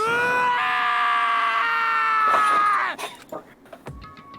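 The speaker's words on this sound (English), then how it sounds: "Taka's sad screams invaded our skulls" A video game character screams in Danganronpa: Trigger Happy Havoc, a long, loud, sustained wailing scream that breaks off abruptly, followed by a few quieter vocal sounds.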